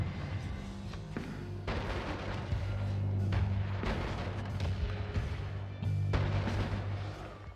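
Weapon fire in the roguelike video game Noita, blasting an enemy with homing rocks: a steady run of loud, booming game shots and rumbling impacts stacked closely together, with low droning energy beneath.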